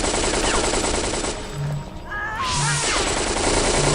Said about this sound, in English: This guy's got a shotgun.